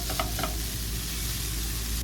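Tofu frying in a pan, browning toward crispy edges, a steady close sizzle throughout with a couple of brief stirring scrapes near the start.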